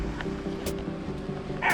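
Steady rush of water at the Gila River crossing in Arizona, a continuous low, moderately loud wash with a couple of brief brighter splashes and no talking.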